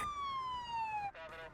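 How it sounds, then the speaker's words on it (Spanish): An ambulance siren wails nearby, one long steadily falling tone that then breaks into a faster, warbling pattern, loud against a quiet background. "Una ambulancia llega en minutos"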